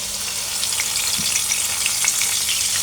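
Onion paste frying in hot oil for a koi fish curry, a bright continuous sizzle with crackles and small pops, close and steady with a faint stirring scrape.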